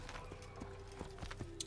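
Horse hooves clip-clopping at a steady trot in Assassin's Creed, a string of regular, moderately close thuds over low game ambience, with a brief faint whinny-like sound near the end.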